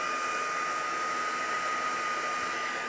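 A heat gun blows hot air steadily over wet watercolor paint on a card, a continuous loud whooshing hiss with a faint tonal whine running unbroken throughout, no voices.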